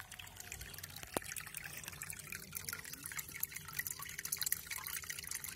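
Water trickles and drips steadily through PVC pipes of a small aquaponics setup, a faint, continuous splashing with a few soft clicks, heard alone.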